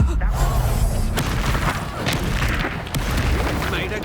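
A fiery Incendio spell blast in Hogwarts Legacy bursts with booming impacts and crackling magical effects amid loud game combat, with a voice shouting over it.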